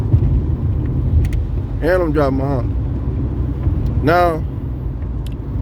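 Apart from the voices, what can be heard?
Honda car being driven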